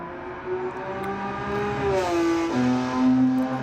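A Porsche 901 or 930 race car runs down a straight, its engine note holding steady and then dropping sharply as it shifts, a clear tonal whine that climbs again, loud and close with no talk.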